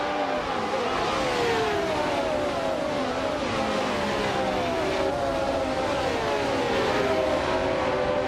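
Vintage racing cars, a classic 1971 Ferrari 312 PT2 among them, roar off the start at Interlagos in a video game, a dense steady engine drone with several rising whines layered together, loud throughout.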